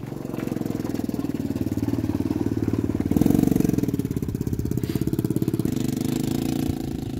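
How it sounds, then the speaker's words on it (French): A quad bike engine runs steadily close by, a loud, continuous pulsing drone that swells briefly midway before settling back, with no talk over it. "Alors, attention, le quad."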